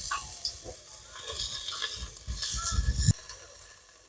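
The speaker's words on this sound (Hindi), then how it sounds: "जो इस गोभी को अच्छी तरीके से यहाँ पे चलाना पड़ेगा गोभी को" Cauliflower frying in a pan is stirred, giving scraping, clattering spoon strokes and bursts of sizzle that rise and fall in an uneven rhythm, close and moderately loud, ending in a sharp knock.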